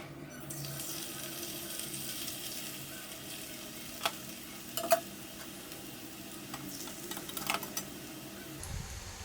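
Jantikalu, crisp rice-flour snacks, sizzling faintly in hot oil as a steady low bubbling hiss, with occasional clicks and scrapes of a utensil in the pan.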